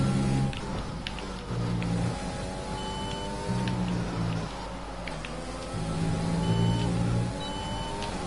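An F1 car engine in the racing game F1 2020 holds a steady high whine that rises through gear shifts, and other cars' engines drone underneath throughout.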